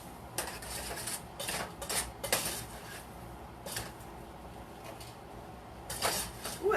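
A spoon stirs taco meat filling in a pan, producing a series of irregular metallic scrapes and clinks against the cookware, quiet and close, with pauses between bursts.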